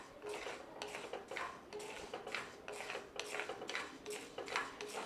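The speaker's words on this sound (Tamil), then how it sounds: "இப்போ இந்த காட்டு யானம் அரிசியை நம்ம" Kattu yanam rice dry-roasting in a pan, a steady stream of rhythmic dry scraping and rattling strokes as the grains are stirred against the metal, recurring about once a second, close and fairly loud with no talk.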